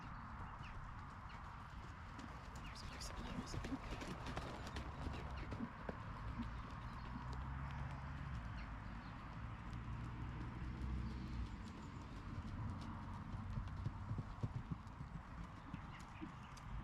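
Horse hooves clip-clop in a steady trotting rhythm throughout, close and continuous, while the horse is ridden over a jumping course after time off; a faint whinny and occasional birds sit beneath.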